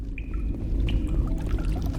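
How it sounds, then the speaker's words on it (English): Water dripping in an icy iceberg area of Mass Effect, with a few clear, close drips over a low rumbling background. "You could hear like the water dripping and stuff."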